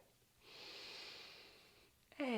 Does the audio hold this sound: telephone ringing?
no